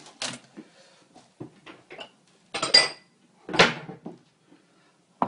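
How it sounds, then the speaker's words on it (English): A small bowl handled while plating up raw fish dishes in a kitchen: scattered ceramic clinks and knocks, a few sharper scraping clatters, close and intermittent with quiet gaps between, no talk. "It's going to get a small bowl."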